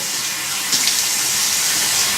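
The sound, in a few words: water running from tap while rinsing face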